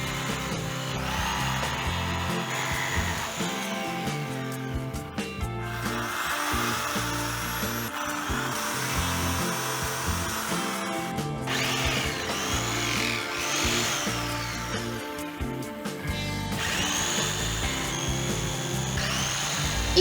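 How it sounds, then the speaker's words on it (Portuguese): A handheld jigsaw cuts wood for a sculpture, its buzzing reciprocating blade rasping steadily and close, with brief pauses and shifts in pitch as the cut changes direction. "manuseia a tico-tico com a precisão que os cortes na escultura merecem"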